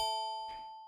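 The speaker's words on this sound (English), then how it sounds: "with this not too nice bell" A synthesized metallic bell made in the Vital synthesizer rings as one sustained tone with bright overtones and decays slowly. A short soft noise bursts in partway through the ring.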